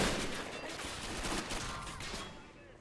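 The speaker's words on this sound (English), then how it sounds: "like 48 guns at the same time shot at this guy" Massed gunfire in the Men of War game as dozens of guns shoot at once at a hilltop fort, a dense crackling fusillade that fades toward the end.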